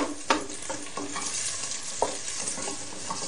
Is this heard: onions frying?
yes